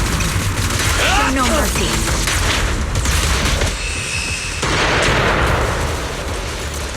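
A video-game fire-support barrage of heavy booming artillery and rolling gunfire keeps up loud and continuous, while a voice speaks over the blasts.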